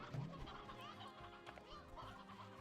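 A rooster clucks in the video game Slime Rancher, a short loud call at the start followed by softer clucks over steady game music and ambience.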